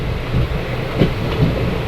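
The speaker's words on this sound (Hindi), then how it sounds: "हमारी train Dewas junction railway station पे पहुंची है" A train pulls into Dewas Junction railway station on the Indore to Gandhinagar run, giving a close, steady rumble with faint rhythmic wheel clatter that cuts off abruptly at the end, with no voices.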